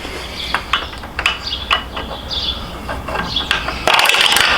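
A heel shifter being tightened on a 2020 Indian Challenger motorcycle, a series of close metallic clicks and ratcheting ticks at an uneven pace, ending in a brief louder burst of scraping noise.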